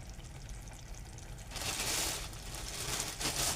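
Grated fresh coconut dropped into a pan of frying taro-leaf knot vegetable, a low sizzle that swells into louder, brighter frying hiss partway through, close with no voices.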